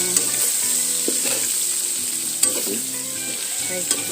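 Continuous loud sizzle of beef tapa frying in a frying pan, with intermittent scraping clicks of stirring throughout, no talking.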